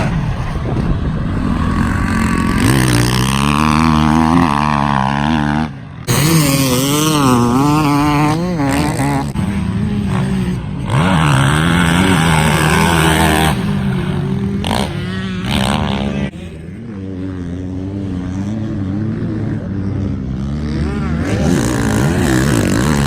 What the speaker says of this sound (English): So just done the first few laps on the new bike